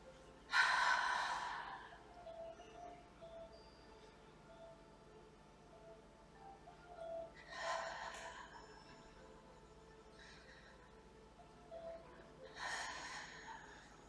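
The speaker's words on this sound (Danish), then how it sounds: "Sørg for at ånde rigtig godt ud her, mens du står og ryster." Three forceful out-breaths during qigong shaking exercise, a strong exhale at the start followed by two more about six seconds apart, breathy and moderately close against a quiet room.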